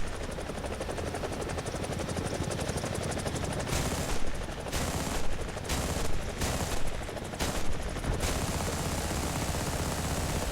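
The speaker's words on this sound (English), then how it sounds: "the gun pods basically dump ammo" A helicopter's gun pods fire in War Thunder over a loud, constant rotor drone, the guns sounding as several rapid bursts through the second half, each burst separated by short pauses.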